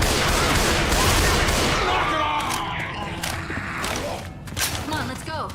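Machine gun fire in a shooter game crackles in dense, rapid bursts at first, then thins to scattered shots and thuds under voices and game effects.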